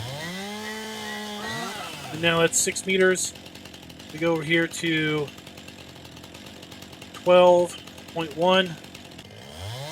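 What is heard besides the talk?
chainsaw cutting in video game Farming Simulator 19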